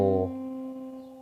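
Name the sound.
guitar note C played with capo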